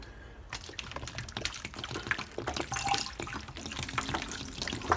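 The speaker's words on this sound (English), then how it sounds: "I'll just give it a quick watering." Water pours from a watering can onto a potted orchid plant, a steady splashing trickle with faint drips, close and fairly quiet.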